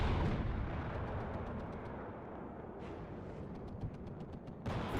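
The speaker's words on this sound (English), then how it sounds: "There's a lot of mortar fire and artillery hitting this area." Mortar and artillery fire in the war game WARNO: a dense, continuous rumble of distant impacts and blasts, fairly faint, with sharper bursts near the start and end.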